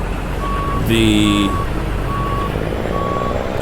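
Turn-signal flashers ticking on a Peterbilt 389 with a 20ft three-axle container trailer in American Truck Simulator, a regular repeating tone over idling engine rumble, with a brief louder horn-like burst and a voice speaking.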